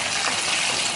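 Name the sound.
marinated chicken frying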